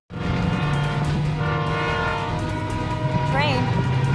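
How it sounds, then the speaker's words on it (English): A train horn blares in long, steady tones over heavy rumbling and loud noise, persisting throughout with a brief bending tone near the end. "Train. I see it. Train!"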